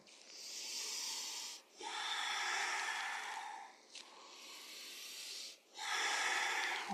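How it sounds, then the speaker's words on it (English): Deep, loud breaths drawn in and pushed out during a yoga lunge sequence, four long airy breaths of about two seconds each with brief pauses between, close and unaccompanied by talk. "Inhale, exhale."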